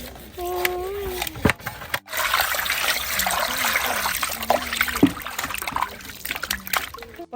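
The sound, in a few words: water running while washing fish with salt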